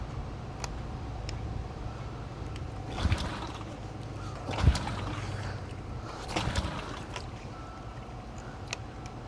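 A used outboard boat motor idles quietly with a low, steady hum, broken by a few soft knocks and clicks.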